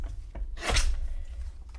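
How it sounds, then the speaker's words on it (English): A paper photo being trimmed for a scrapbook page, giving one brief scraping cut that rasps for about half a second, close and fairly quiet, with soft handling noise before and after. "Trim the photo down a little bit."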